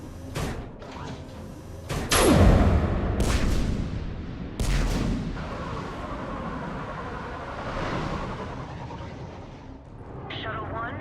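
Heavy gun batteries firing in Mass Effect 3, a few sharp booming blasts with rumbling tails over a dense sci-fi background roar, with voices talking in between.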